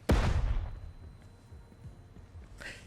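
A flashbang breach in the Door Kickers 2 game goes off with one sharp, loud bang, then a rumbling decay with scattered faint pops and a second burst near the end.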